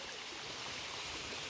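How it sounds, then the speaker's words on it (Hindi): Drinking water rushes in a steady, loud stream along a roadside in Uttarakhand, a continuous hiss with no voices. "ये पीने का पानी है"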